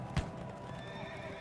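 Cavalry horses of a regiment under attack whinny in a short, tonal neigh with a thump of hooves at the onset, heard fairly near over a low, busy background.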